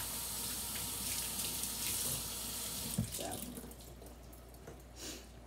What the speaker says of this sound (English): So I rinsed the black beans,